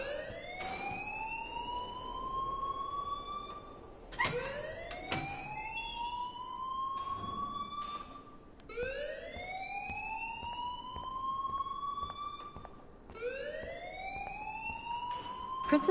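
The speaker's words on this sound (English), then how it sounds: "please turn off that alarm since that's your job" A rising, wailing alarm in the video game Life Is Strange, sweeping upward four times at steady intervals of about four seconds, loud and close, with speech faintly underneath.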